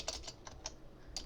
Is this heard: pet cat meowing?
no